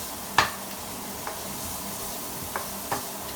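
Finely chopped onions with garlic and paprika frying in a hot pan, a steady close sizzle with a few sharp clicks of a utensil against the pan.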